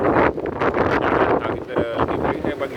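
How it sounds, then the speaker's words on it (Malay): Strong wind of about 25 knots roars across a sailing boat at sea, a loud buffeting rush that fills the microphone, with a voice speaking faintly beneath it. "Bunyi angin sangat kuat."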